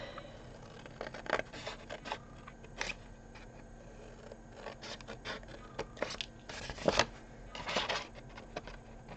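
Scissors snip through card for a chocolate drawer gift box, with sharp, irregular cuts and rustles close up, some louder bursts among quieter scraping.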